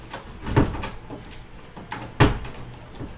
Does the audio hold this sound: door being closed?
yes